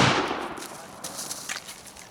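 A single AR-22 rifle shot in a timed shooting drill opens with a sharp, loud crack that decays quickly into a fading tail, followed by a few faint, light pops.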